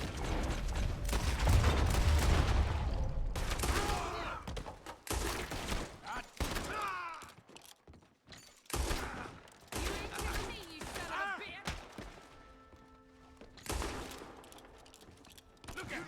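Gunfire in the video game Red Dead Redemption 2: a dense run of sharp, loud shots and mechanical clatter inside a busy game soundscape, with bursts that thin out and come back over about sixteen seconds.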